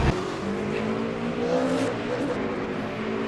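Race car engine from a racing simulation game of the 8 Hours of Bahrain, a steady loud drone with shifting pitch as the car accelerates through corners.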